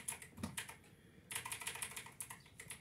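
Quick clicks of a computer keyboard pressed during gaming arrive in short irregular bursts separated by a brief pause, close and fairly quiet, with no talking.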